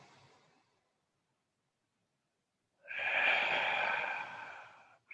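Slow breathing during a pilates session: a soft breath fades out over the first half second, then after a pause a long, breathy exhale rushes out close by for about two seconds.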